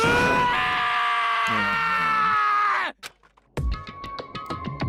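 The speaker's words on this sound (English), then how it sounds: "As Taka's sad screams invaded our skulls" A male character screams during an execution scene in the Danganronpa video game, a long loud anguished wail lasting several seconds, then cut off abruptly before sharp clanging hits and mechanical noise.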